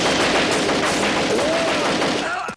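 Dense, loud gunfire from a shootout scene in the action film Cyborg Cop, continuous rattling bursts with a dubbed voice briefly heard among them, cutting off abruptly at the end.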